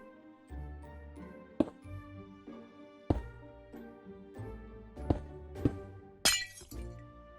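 Sharp glassy clicks and clinks of stained glass blocks being placed in the Minecraft video game, about five separate hits spread across the stretch, heard over steady background music.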